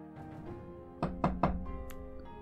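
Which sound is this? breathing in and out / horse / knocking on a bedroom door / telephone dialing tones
knocking on a bedroom door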